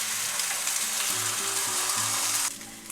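A Spanish omelette sizzles steadily in a frying pan, a dense broadband hiss that runs loud and continuous, then drops in intensity near the end, with soft background music tones underneath.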